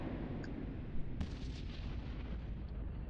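Missiles launching in the space game EVE Online, a muffled, rumbling barrage of booming fire with one sharper burst, continuous and moderately loud, with no talk.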